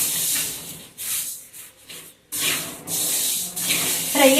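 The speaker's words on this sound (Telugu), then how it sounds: "ఇప్పుడు అక్కడ ఫ్రై అవుతున్నాయి" Hot oil sizzles and hisses in a frying pan while ragi-related food fries, a steady broadband crackle broken by a few brief pauses, fairly close and loud.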